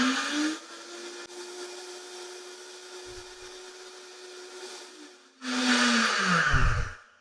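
A blender grinds brown rice into flour, first a steady whirring hum, then switched to high with a sudden louder roaring grind near the end before cutting out.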